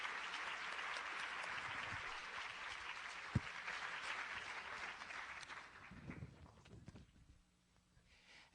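An audience at a university lecture applauds to welcome physician Professor Jennifer Leaning, with soft, steady clapping that holds for several seconds and then fades away to near silence.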